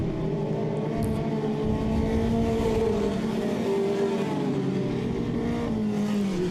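Mini mod race cars roar around a dirt oval at Southern Ontario Motor Speedway during a heat race, engines revving and rising and falling in pitch as they pass, loud and continuous with no talk.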